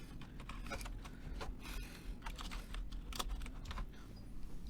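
Steady, close typing on a computer keyboard while writing a ChatGPT prompt, with quick irregular key clicks and taps running continuously and no talk over them.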